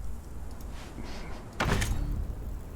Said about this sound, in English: Build a door.